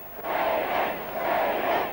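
A large crowd roars and cheers for Essendon coach Kevin Sheedy after the 1984 VFL Grand Final, a dense sustained swell of many voices rising and falling.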